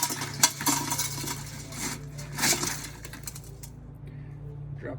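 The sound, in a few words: copper pieces from torn-apart computers dumped into a pot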